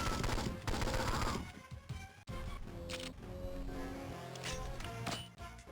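Gunfire from the Game Boy Advance game 007: Nightfire, dense and loud with sharp repeated shots over a busy electronic game soundtrack, filling the whole stretch with little break.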